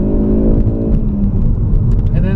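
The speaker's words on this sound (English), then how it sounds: "We'll go into driver assist, then we go into launch control, then we go 3, 2, 1, and go." A Ford Focus RS launches hard under launch control, its engine a loud, steady roar with rising harmonics throughout, close inside the cabin.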